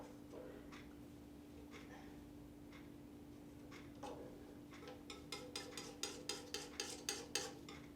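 A brush mixes oil paint on a palette in a quiet room. Sparse soft taps come first, then quicken into a run of sharp, rhythmic clicks and dabs toward the end, all faint and close, over a steady low hum.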